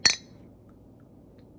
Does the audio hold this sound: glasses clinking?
yes